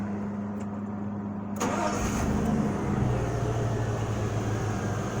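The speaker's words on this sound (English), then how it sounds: "So I'm going to start the vehicle" A 5.3 vehicle with an intermittent stalling fault cranks and fires up partway through, then settles into a steady, close idle after a quiet hum at the start.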